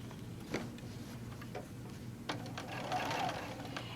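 A sewing machine stitches in steady bursts while doing ruler-work quilting with an Amanda Murphy curve ruler, its mechanical hum broken by a few sharp clicks and taps nearby, with no voices.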